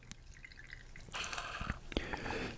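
Soapy water with a touch of ammonia drips and flows through a fountain pen, starting as sparse drips, then a bright rushing stream with splashes, close and fairly loud.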